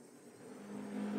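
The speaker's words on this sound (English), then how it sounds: "I don't know if you heard that, but there was a really loud car outside." A loud car passes outside, its engine drone building steadily and growing louder toward the end, heard from indoors with no talk.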